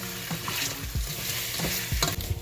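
Frying potatoes are stirred in a pan, giving a constant sizzle with several soft scraping stirs of a utensil spaced through the short stretch, close up and without speech.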